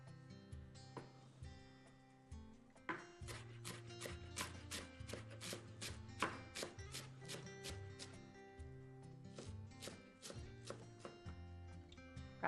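A knife finely chops greens for a summer byrek made with twelve greens, giving a quiet, fairly regular series of close, crisp taps on a board with short pauses between bursts.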